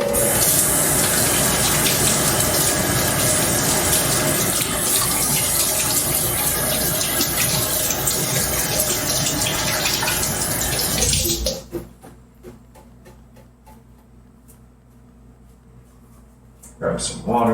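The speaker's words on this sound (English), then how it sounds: "Time to wash hands." Water runs from a tap with a steady, loud broadband gush for about eleven seconds, then cuts off abruptly, leaving quiet room tone and a faint voice near the end.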